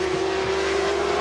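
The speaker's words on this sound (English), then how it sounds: "I can hear a Honda 6 being revved up outside here that Stuart Graham is going to ride in a moment, and it's deafening" A Honda six-cylinder racing motorcycle, about to be ridden by Stuart Graham at Cadwell Park, is revved nearby with a loud, sustained, steady engine drone and no speech over it.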